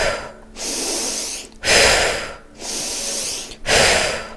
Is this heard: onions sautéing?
no